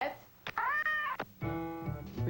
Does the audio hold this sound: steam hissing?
no